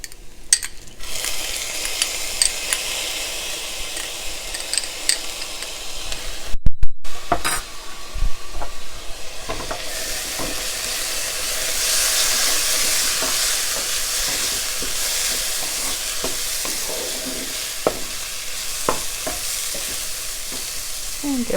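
Minced garlic frying in a pan while cooking soybean chilli, a steady broadband sizzle with stirring and occasional clicks of a utensil against the pan throughout.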